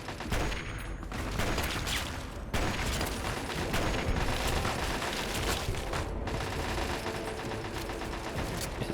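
Gunfire from turrets and enemy fighters in the game Fallout: Tale of Two Wastelands: dense, continuous volleys of shots and mechanical clatter, loud and sustained, with only brief gaps.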